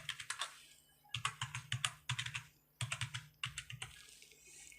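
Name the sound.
typing an Aadhaar card number on a computer keyboard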